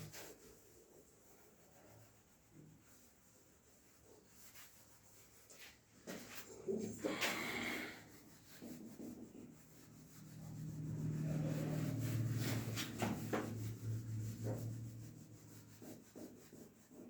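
Rubbing during a physics classroom lecture, a faint scraping swish around the middle and then a longer, louder, steady rub toward the end, with no speech.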